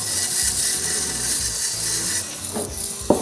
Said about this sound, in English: I got this cool little sander that you can just kind of